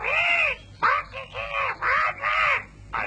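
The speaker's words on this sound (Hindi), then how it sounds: "अरे ये तो मीना का तोता है।" A parrot gives a run of about six harsh, raspy squawks in a steady rhythm, each one loud and close with short gaps between them.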